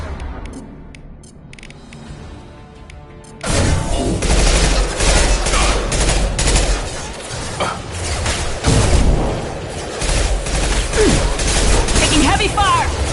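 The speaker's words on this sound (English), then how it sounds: "Taking heavy fire!" Heavy gunfire erupts in a Mass Effect 2 firefight, dense bursts of shots and booms hammering loud and continuous after a quieter opening stretch, with voices calling out amid the fighting.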